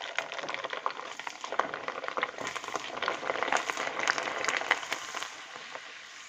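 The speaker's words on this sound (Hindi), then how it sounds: "अब मैं पापड़ को तल करके आपको दिखाती हूँ" Sago papad wafers fry in hot oil in a kadhai, giving a steady, faint crackle and fizz of small sizzling pops with no voices.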